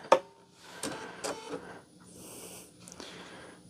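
A sewing machine stitches fabric in short bursts of whirring, with a loud click at the start and brief pauses between runs; faint and close.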